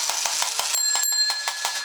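A toy fire boat's electronic bell rings in a steady run of rapid, bright strikes, with a sustained chime tone layered in partway through, close and fairly loud with no voices.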